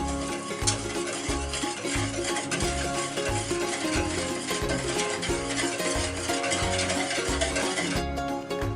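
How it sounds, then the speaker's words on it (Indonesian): Thick pudding mixture bubbling and plopping steadily in a pot as it boils, with a low rhythmic churning throughout, close and moderately loud, no voices. "kalau udah meletup gini nih, udah mendidih"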